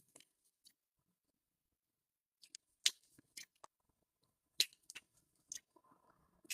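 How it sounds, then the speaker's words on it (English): Scissors snip through material while pieces for a Butter Bags Becca Bag are cut out: sparse, crisp clicks and short cuts at irregular intervals, faint and close, with quiet gaps between them. "I'm just going to cut these."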